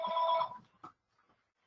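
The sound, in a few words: office phone ringing during a webinar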